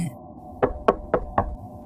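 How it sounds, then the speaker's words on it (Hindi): Four firm knocks on a kitchen window at night, evenly spaced and close, in a quiet room. "इतनी रात को मेरे किचन की खिड़की कौन खटखटा रहा है?"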